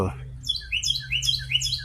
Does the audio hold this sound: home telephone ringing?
no